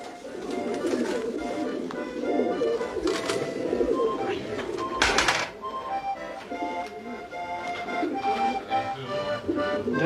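Racing pigeons cooing at a club's basketing session, soft overlapping coos close by, a sharp clatter midway and a voice talking over the birds.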